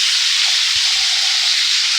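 Potatoes tipped into hot oil seasoned with asafoetida for a Bengali samosa filling give a steady, loud, close hiss and sizzle that continues evenly throughout, with a faint low bump partway through.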